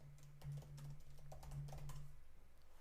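Rapid clicking keys on a computer keyboard as a git command is typed, a close, crisp run of irregular taps over a steady low hum.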